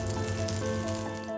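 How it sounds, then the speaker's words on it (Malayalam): A batter-dipped bread slice toasting in a hot pan gives a brief, even sizzle with a faint steady hum behind it and no voices. "ഇനി നമുക്ക് ഒരു ബ്രെഡിൻ്റെ സ്ലൈസ് ഈ ബാറ്ററിൽ മുക്കി നമുക്ക് ടോസ്റ്റ് ചെയ്തെടുക്കാം"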